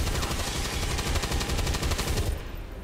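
Automatic gunfire in the tactical video game XCOM 2, a rapid burst of loud, evenly spaced shots lasting over two seconds, then tapering off into a brief echoing tail.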